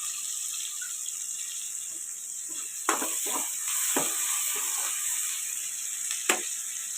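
Sliced onions and green chillies with salt sizzle steadily in a hot pan, with a constant hiss and a few soft stirring knocks from a utensil.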